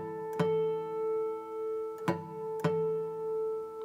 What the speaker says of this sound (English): 5th fret harmonic on the A,